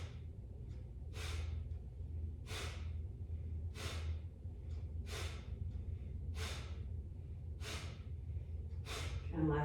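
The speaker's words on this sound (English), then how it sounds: "And then 10 Kapalabhati here. So inhale and then exhale out." Kapalabhati yoga breathing, a run of about eight forceful nasal exhales spaced roughly every 1.3 seconds, each a sharp close breathy burst, over a steady low background hum.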